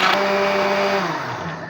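Strawberry milkshake whirring in a blender, a steady loud motor drone with a whining pitch that holds, then sags and shifts near the end as the mix thickens; no voices.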